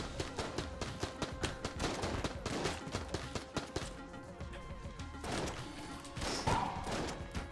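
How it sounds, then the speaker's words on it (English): Rapid gunfire in the video game Enter the Gungeon comes as dense bursts of repeated sharp shots and blasts. A steady rhythmic volley is followed by a short pause, then heavier booming shots, all loud and continuous. "Why does it take so long to reload the shotgun?"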